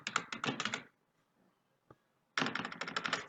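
Quick bursts of keystrokes on a computer keyboard as a password is entered, a rapid clattering run, a pause with a single tap, then another fast flurry of typing, close and clear with no talk.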